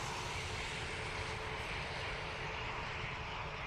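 A British Airways A320neo airliner departs Dublin Airport for London Heathrow, its jet engines giving a steady, broad roar that stays loud and constant throughout, heard from a distance with no voices.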